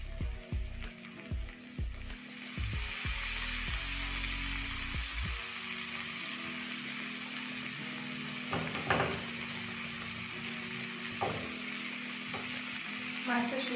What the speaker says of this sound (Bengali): তাওয়াটা দারুণভাবে গরম হয়েছে, আর মাছটা দারুণভাবে ফ্রাই হবে।